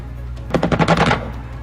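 Aircraft guns strafe in a combat flight video game, a rapid burst of roughly half a dozen loud, punchy rounds fired in quick succession over a steady low engine drone.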